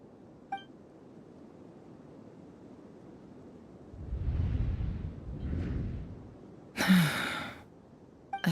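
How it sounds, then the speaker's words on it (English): A game character gasps in an Archon Quest scene, heard as a breathy intake and exhale swelling over a few seconds, followed by a brief sharper breath, moderately loud over a quiet background. "I heard Yehuda gasp"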